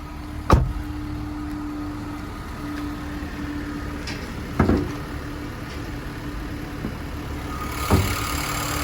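A 2019 Nissan Qashqai ST engine idles steadily under the open bonnet, a low even hum with a faint tone, punctuated by three sharp knocks or thumps spaced a few seconds apart.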